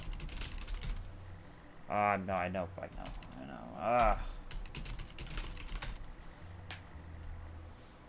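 Computer keyboard typing, a steady patter of close key clicks running throughout, briefly under a man's short spoken remarks.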